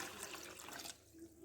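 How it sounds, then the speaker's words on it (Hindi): Water is poured onto soaked, drained potato fries in a bowl, a soft steady splashing rush that stops abruptly partway through. "अब हम इसमें दोबारा पानी डाल देंगे"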